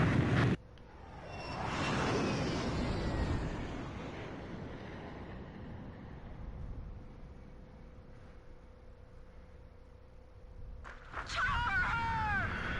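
Sukhoi Su-27 fighter jets roar past as a broad, rushing swell that rises and slowly fades into a long wind-like hiss, loud at first then distant, followed by a sharp burst of noise at the end.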